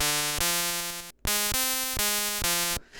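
The noise channel of a Game Boy running LSDj plays buzzy, pulse-like chiptune chords. The chords step through repeated pitch changes, break briefly in the middle, then carry on before a short hiss at the end.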